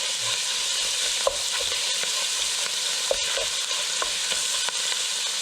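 Half a pound of ground hamburger fries in a pan for lasagna with a steady, bright sizzle, while a utensil breaking it up scrapes and knocks in irregular taps, one sharp clack near the middle.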